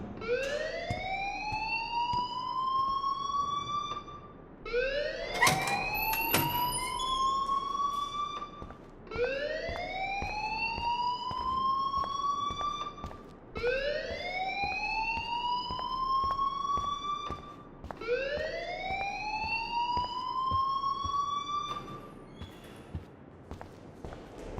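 An alarm in the video game Life Is Strange rises in a sweeping siren-like wail that repeats about five times in regular cycles, loud and close, with a brief clatter of footsteps partway through.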